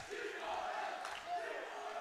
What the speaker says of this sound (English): now the crowd is into it